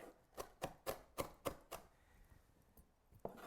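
Knife chopping by hand on a cutting board for gremolata: a quick run of about seven sharp, evenly spaced chops, a short pause, then another chop, close and clear with no talking.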